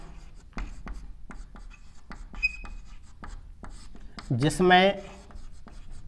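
Chalk or marker strokes scratch across a board during a Hindi-language science lecture on redox reactions, a series of short scraping taps spaced through the clip, with a teacher's voice briefly speaking over them.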